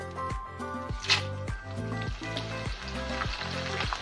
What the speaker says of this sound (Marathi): हे मक्याचे पोहे तळण्यासाठी आपल्याला कडकडीत गरम करून घ्यायचं आहे आणि गरम तेलामध्येच हे पोहे तळून घ्यायचे आहेत